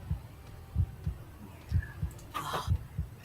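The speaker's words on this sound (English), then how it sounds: "I really hate that heartbeat beeping sound" A heartbeat sound effect plays during an archery broadcast of a women's recurve team event: a slow, steady double-thump pulse, low and regular, with a brief burst of crowd or background noise partway through.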